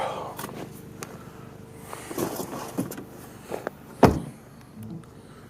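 Someone climbs back into a car: scattered rustles and shuffles, a few thumps, and one sharp, loud door slam near the end, with no talk.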